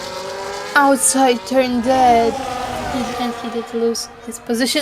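F1 race cars in a cockpit-view racing video game at the Abu Dhabi Grand Prix, with high engine whines stepping up and down through gear changes under steady commentary.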